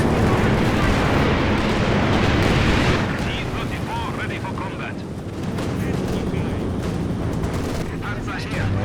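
A tank gun fires in Company of Heroes 2, a heavy booming blast in the first seconds followed by rumbling battle noise and scattered crackles, with a voice talking over the action.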